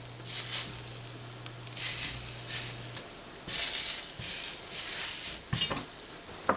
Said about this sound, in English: As quick as this meat can touch the pan.